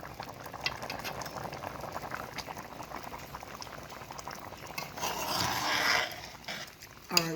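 A pot of Jamaican stew peas simmering, soft continuous bubbling and gurgling heard up close at low volume, with a brief clink near the end.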